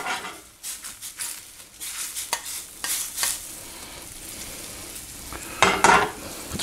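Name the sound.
butter melting and sizzling in a pan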